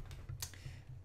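A loud, clacky computer keyboard is typed on in a few quick, close keystrokes, each one a sharp distinct clack over a low room hum.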